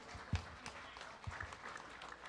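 Faint, scattered clapping from a small audience at a Bhagwat Katha gathering, a few sharp individual claps standing out over a soft, thin patter.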